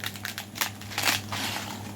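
Oven-dried shami bread snaps and crumbles in the hands, a quick run of dry crackling and crunching bursts close up, fairly faint and without talk.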